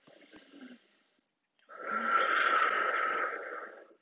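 Deep, slow yoga breath held in a twisting lunge pose: a faint breathy sound at first, then after a short pause a long, loud, rasping exhale lasting over two seconds, close by with no talking.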